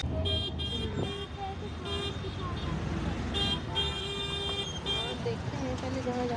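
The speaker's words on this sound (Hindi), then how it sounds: "ट्रैफिक तो खत्म हो, इतना तो ज़्यादा ट्रैफिक" Busy road traffic with many large trucks, a steady roar of engines and passing vehicles with repeated horn toots scattered throughout, close by and continuous.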